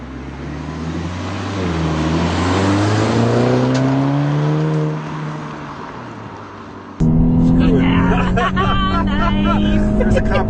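A 2014 Volkswagen Scirocco R accelerating hard on twisty roads, its engine note rising steadily in pitch through the gears with a brief drop at a shift, then resuming loud and close, recorded from inside the car.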